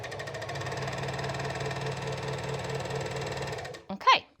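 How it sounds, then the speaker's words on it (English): A serger sewing machine stitches fabric with a fast, steady mechanical hum and rapid needle chatter close by, stopping abruptly near the end, followed by a short burst of talk. "with sergers, there is not a back stitch, so you basically sew off the edge and leave a long chain of thread"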